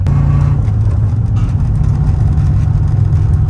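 A van's diesel-era engine drones steadily while driving on the road in winter, a loud continuous low rumble with a faint hum running through the whole stretch, no talking over it.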